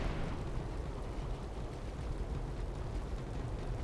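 Breath of Fire spell in a Warcraft III match: a dense, rumbling burst of fiery roar that starts loud and stays steady as a broad, noisy wash.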